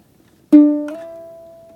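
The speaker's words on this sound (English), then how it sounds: "we're just going to hit that C string and slide it up 2 frets" A single ukulele C string is plucked, then slides up two frets in pitch and rings out, fading slowly in an otherwise quiet moment.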